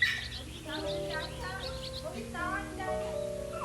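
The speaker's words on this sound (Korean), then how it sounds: "패디오에 방충망을 열어놓았더니 이렇게 새가 길을 잃고 집 안으로 들어왔어요" A lost bird trapped indoors after flying in through an open patio screen chirps in repeated short tweets at close range, mixed with a voice and faint indoor sounds.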